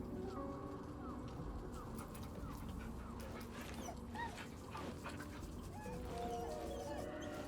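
A dog in the video game Baldur's Gate 3, faint whimpers and soft canine noises over a steady ambient background with chirping birdlike calls, fairly quiet.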